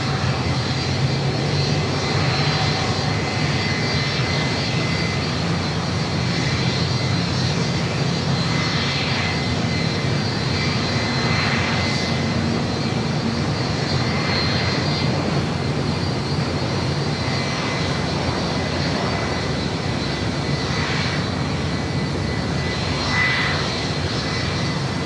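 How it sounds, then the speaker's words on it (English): A Boeing 757 jet engine runs up on the ground outside a maintenance area at LAX, a steady, loud, broadband roar with a high whine sustained throughout, no talk. "They just fired up a 757 engine over here outside the Tech Up."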